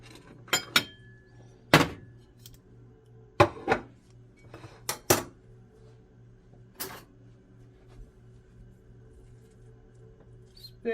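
Meatloaf volcanoes being dished into a bowl, with several sharp clinks and clatters of crockery and utensils spread out over a quiet kitchen background, no talking.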